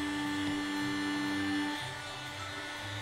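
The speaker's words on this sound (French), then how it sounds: "C'est un aspirateur de bureau." Small desk vacuum cleaner shaped like R2-D2 whirs with a steady tonal hum, then its motor note drops and settles lower partway through, running close and alone.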